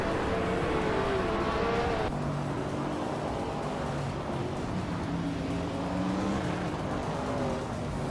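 Racing engines roar continuously in a video game, led by a 1966 McLaren Elva Chevrolet, with several cars droning and shifting pitch together, loud and dense throughout with no pause.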